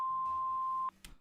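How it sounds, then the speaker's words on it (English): A steady electronic voicemail beep tone, one long sustained pitch lasting most of a second, inserted into a text-to-speech message, followed by a brief faint click. "please leave a message after the tone, and then they insert a beep?"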